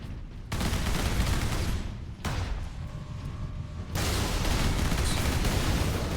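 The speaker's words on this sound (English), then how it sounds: "Servo turrets. Lockdown in effect. Sentry guns ahead." Servo turret sentry guns in Warhammer 40K Space Marine open fire in loud sustained bursts, dense rapid gunfire broken by a short pause and mechanical whirring before resuming.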